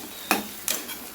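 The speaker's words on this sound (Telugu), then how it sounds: "ఆలుగడ్డలు ఒక 3 తీసుకున్నాను నేను, వేసేసుకుందాం. కలుపుకుందాం బాగా." Potatoes stirred into curry in an oily pan, two scraping strokes of a spoon against the metal over a soft steady sizzle, with no voice.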